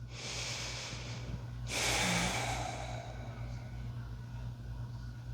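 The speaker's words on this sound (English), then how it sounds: "1 big breath here" A single big breath taken during a slow neck stretch, a close airy exhale that swells briefly over steady low background hum and then fades.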